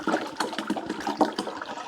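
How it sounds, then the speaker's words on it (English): Distilled white vinegar pouring into the water reservoir of a GE Profile Opal 2.0 nugget ice maker, a steady close splashing gurgle of liquid with no talk. "So we got to fill this water reservoir up with vinegar."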